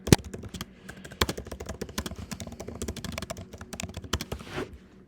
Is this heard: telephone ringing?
no